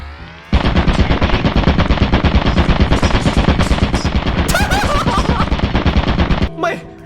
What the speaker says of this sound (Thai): มึงเห็นป้อมปืนอยู่ มึงก็ไปให้ป้อมปืนยิง